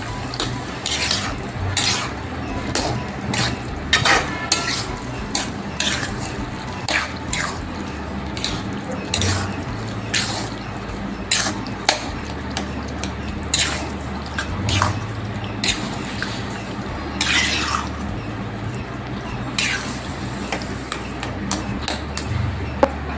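Pav bhaji vegetables are stirred and mixed in a hot pan, with repeated scraping and clacking of a utensil against metal over a continuous low sizzle, steady and close throughout.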